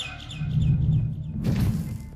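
Video game Garten of Banban: a bird gives a run of quick high chirps over a steady low rumbling ambience, followed by a brighter rustling burst.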